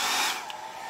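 A hair dryer blows on freshly stenciled paint, a close, airy whine with a steady motor hum that briefly dips and shifts as the nozzle moves, lasting under a second.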